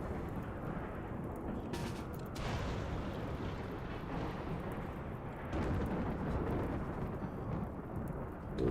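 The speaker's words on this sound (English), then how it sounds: "Dry thunderstorm." Low rolling thunder rumbles continuously from a dry thunderstorm in RimWorld, a dense, steady roar with no rain hiss, swelling slightly louder toward the end.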